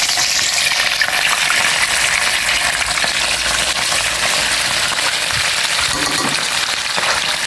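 Food fries in hot oil in a pan, giving a loud, steady, close sizzle with occasional stirring scrapes and no talk.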